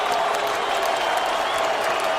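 San Jose home crowd in an MMA arena roaring and applauding after Cung Le's knockout of Mike Altman, a dense, steady wash of cheers and clapping throughout.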